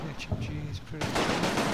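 Heavy machine gun firing in the Combat Mission war game, a dense burst of rapid shots that swells louder in the second half, with low sounds and faint voices running beneath it.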